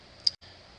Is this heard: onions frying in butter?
no